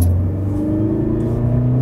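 A Mercedes GLE 350de plug-in hybrid with a 2-litre four-cylinder diesel accelerating in sport mode, a steady loud low engine rumble with a rising drone from inside the cabin.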